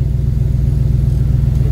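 A car engine with a dead cylinder idling in a cold garage, a loud, close, uneven lumpy rumble with a rhythmic stumble repeating throughout, no talking.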